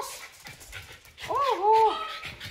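Dogs pant and whimper close by in short breathy bursts with a brief whine, while a person talks over them in a room.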